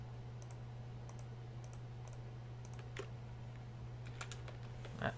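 Computer mouse and keyboard clicks during a Pokemon Soul Silver game, faint sharp ticks in short clusters over a steady low hum.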